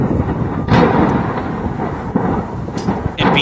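An ammunition cache explodes in wartime Ukraine, with munitions cooking off: a loud, continuous rolling rumble broken by several sharper blasts and cracks, all close and heavy.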